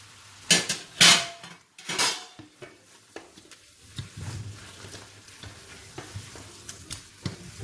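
Pork ribs sizzle in a hot pan while being stirred, with sharp metallic scrapes and clanks of a utensil against the pan early on, then steady frying crackle with intermittent stirring knocks.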